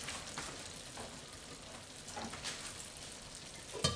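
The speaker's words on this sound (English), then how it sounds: "It's still very low, so we are going to allow it to simmer for 10 minutes" A Spanish paella simmering in the pan on low heat, a soft continuous sizzle and gentle bubbling crackle with a small clatter near the end.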